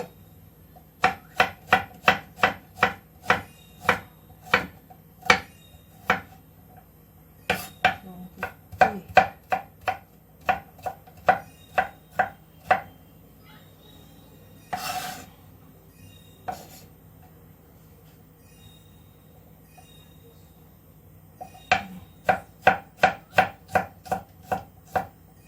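A knife slicing food on a cutting board while a simple dinner is cooked at home, crisp rapid chopping strokes in quick bursts with short pauses between runs, close and clear.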